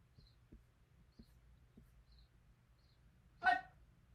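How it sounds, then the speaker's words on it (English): A pet dog lets out one short bark or whine near the end, fairly close and louder than anything else, after a quiet stretch of faint, evenly spaced soft thumps in a still room. "Oh, my dog wants to go out."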